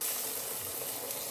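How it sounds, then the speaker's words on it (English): Vada frying in hot oil, giving a steady, dense sizzling hiss that runs evenly through the whole moment, close and unbroken, with no voices. "flatten it evenly, drop it in the oil"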